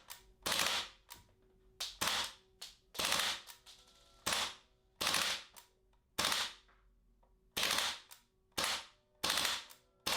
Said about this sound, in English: The following full squeeze resets and it torches off a full 3-shot burst.